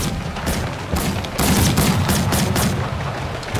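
Rapid bursts of repeating rifle fire in a video game's shark battle, loud close cracks arriving in quick uneven clusters over a constant rumbling game background.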